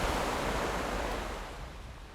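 Ocean waves off Hokkaido surge in a broad, steady wash of surf noise that slowly fades, loud and close, with no voices.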